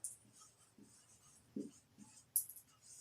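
Chalk or marker writing a chemical formula on a classroom board, a quiet series of short taps and scratchy strokes at an uneven pace, close and faint, with no speech.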